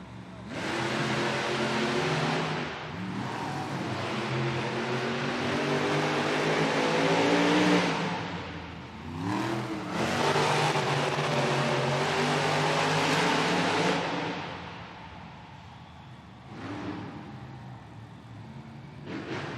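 Monster trucks racing side by side at a Monster Jam event in Tacoma, engines roaring loud and continuous with surges in revving, a brief dip midway and fading toward the end.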